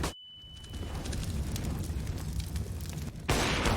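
In the CS:GO video game, fire burns with a steady crackling roar after an abrupt start, and a louder blast-like surge breaks in near the end.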